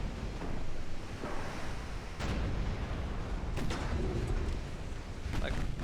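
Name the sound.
warship main guns firing in video game Ultimate Admiral Dreadnoughts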